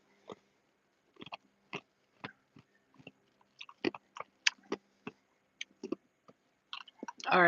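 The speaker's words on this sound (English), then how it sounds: "I'll just chew the ice till it's done" Ice from an iced coffee gets crunched between the teeth in a series of sharp, close, irregular bites and cracks, separated by short pauses of quiet.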